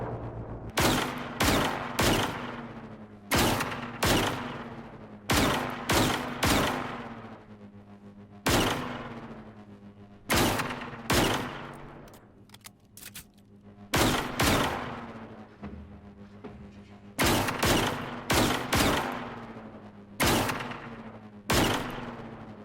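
In the video game Generation Zero, gunfire hammers at a tank in repeated short volleys of sharp, loud shots separated by brief pauses, keeping up a steady, rhythmic pattern throughout.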